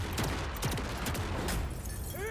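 In the video game MENACE, a dense burst of gunfire rattles at a laser walker, with loud, overlapping shots and a few sweeping whines near the end.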